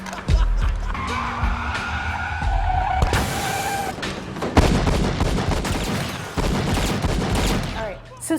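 Gunfire in a cop movie scene where two unarmed young men in a car are shot, sharp loud cracks mixed with engine noise and tire screeches, bursts scattered throughout amid dense action sound.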